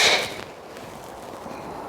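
A Ping G425 driver strikes a golf ball outdoors: one sharp, bright impact crack at the start, then a quiet open-air wash with no talk.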